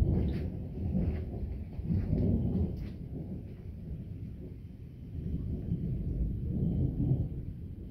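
Thunder from a violent July thunderstorm with intense electrical activity rolls and rumbles deep and low in long, swelling waves. The rumble is steady and heavy, with rain and wind noise faintly underneath and no voices.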